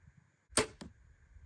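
An arrow leaves a bow on an outdoor 3D archery range with a sharp snap, followed a moment later by a quieter thud, under faint background hum.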